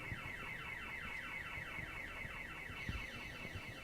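An in-game car alarm blares on, its rapid looping electronic whoop repeating evenly at moderate volume, alone with no voices over it.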